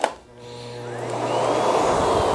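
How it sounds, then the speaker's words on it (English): A Miele Guard M1 Cat & Dog vacuum cleaner runs on its lowest suction setting on carpet, starting with a thump and then rising into a loud, steady whirring roar. "So I'm going to use the lowest suction from the machine to get that dirt."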